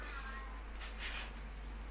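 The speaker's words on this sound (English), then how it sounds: "goddamn cat" A cat meows once, faint and brief, over a steady low background hum.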